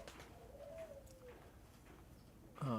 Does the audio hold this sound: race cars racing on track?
no